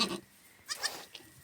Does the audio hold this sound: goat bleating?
yes